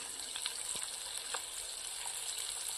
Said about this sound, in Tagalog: Yan lang muna yung ilunod natin dito sa mantika.